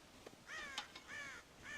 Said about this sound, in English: God damn crows!